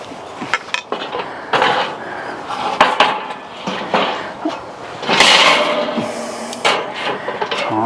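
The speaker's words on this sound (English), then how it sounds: "let's put our cooking grate on" A metal cooking grate set down onto a charcoal grill, with a run of clanking, scraping metal knocks and rattles at close range, loudest near the middle.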